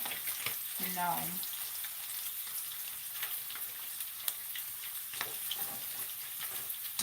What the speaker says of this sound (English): Child, y'all see that bacon? Browning.